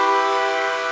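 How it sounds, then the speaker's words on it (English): A vehicle horn at a parade sounds one loud, sustained blast that fills the whole moment, with nothing else heard. "He honked his horn."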